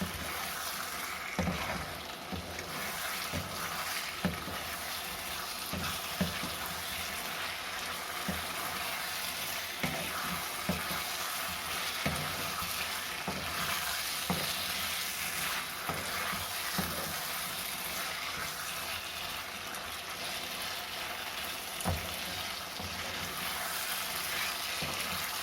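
Chicken 65 pieces fry in a hot pan until dry, a steady soft sizzle and crackle running continuously with occasional scraping stirs, fairly quiet and without talk.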